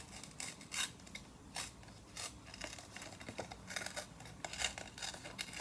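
Package sides being ripped open, a run of faint, uneven tearing and crinkling rasps, close by and with no voices.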